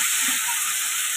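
Fish cooking in a pan in a home kitchen, a steady, loud, hissing sizzle of hot oil that holds evenly throughout with no talk.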